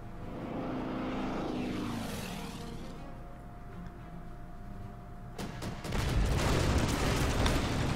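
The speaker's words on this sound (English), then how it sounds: "More US bombers arriving." US bomber aircraft engines in the Order of Battle war game, a propeller drone sweeping past with falling pitch, fading, then a sudden loud burst of rumbling explosions near the end.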